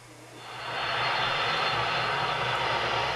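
Bob Dylan's plane at Odense Airport, a jet aircraft engine roar that swells quickly over the first second and then holds loud and steady.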